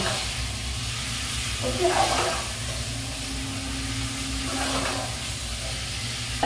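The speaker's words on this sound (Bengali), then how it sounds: "ঢাকা চাপা দিয়ে দমে চিকেনটাকে রান্না করবো" Chicken slow-cooking in a covered dekchi pot, a low continuous sizzle and hiss with brief louder bursts of frying, close and steady, with a short spoken word at the start.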